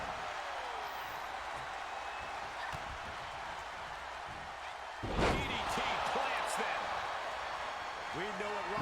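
A wrestler hits the mat in a WWE 2K23 match, a single heavy thud midway through, set against steady arena crowd noise with a commentator talking over it.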